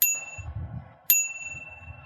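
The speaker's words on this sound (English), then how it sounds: "Don't wait until you're just behind them to ring the bell though." A bicycle bell rings twice, each a bright metallic ding left to decay, with a faint low rumble in between.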